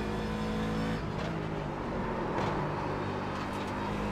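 Race car engine and tyres in the iRacing simulator, an old Formula 1 car drifting with little downforce, producing a steady loud engine drone with harmonic tones throughout, shifting slightly in pitch without any talk.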